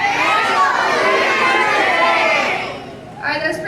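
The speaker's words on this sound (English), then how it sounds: "I want you guys to yell, Rachel, do your trick as loud as you can" A crowd of children yelling loudly together at a birthday surprise, a sustained close, dense shout lasting a few seconds before trailing off into scattered voices.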